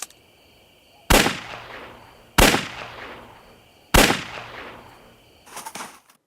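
Three loud, sharp gunshots ring out in a TV drama scene, spaced about a second and a half apart, each trailing off in a reverberant decay, followed by a fainter brief rattle.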